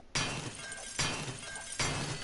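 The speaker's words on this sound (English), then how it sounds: "it'll actually sound like broken glass when you walk over it" Broken glass crunches underfoot in the video game 7 Days to Die, with three evenly spaced sharp crunching steps sounding close and fairly quiet.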